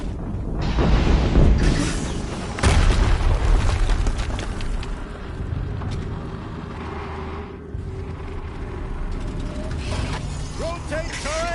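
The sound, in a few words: explosion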